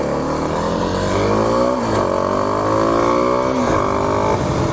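A Kawasaki KLX 300 motorcycle with its secondary throttle plate removed accelerates hard on a road, its engine note climbing through gears with two brief dips at shifts, loud and close.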